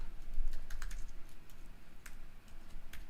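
Quick bursts of keystrokes on a computer keyboard during poster design work, irregular clusters of clicks close to the mic over a low background hum, no voices.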